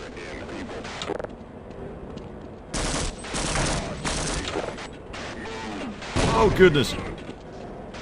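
Explosions and gunfire in the video game Half-Life, several sharp loud bursts separated by quieter gaps, with a person exclaiming over them.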